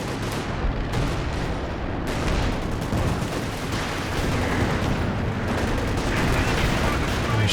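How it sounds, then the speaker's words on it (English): Howitzer artillery fires in Company of Heroes 2, a dense, continuous barrage of booms and blasts mixed with gunfire that stays loud throughout, with a voice talking over it. "Looks like the howitzer now targeting the forward retreat point area."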